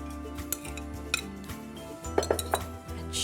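Coconut and prawn salad with Thai dressing tipped into a large bowl, a few sharp clinks and soft knocks of utensils against the bowl at close range, with quiet kitchen handling between them.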